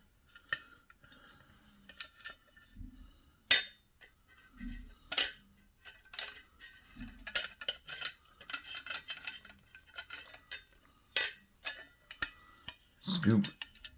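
A metal detecting scoop scrapes and crunches into soil in a series of sharp, irregular gritty strokes, close by, with someone talking intermittently between them.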